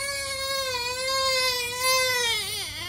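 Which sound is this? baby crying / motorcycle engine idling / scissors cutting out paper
baby crying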